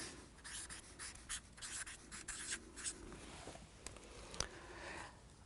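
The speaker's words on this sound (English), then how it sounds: "Only I'm going to write ki in front of it." A word being handwritten on paper, close and quiet scratchy strokes of pen or pencil in short irregular bursts with brief pauses, ending with a small tap.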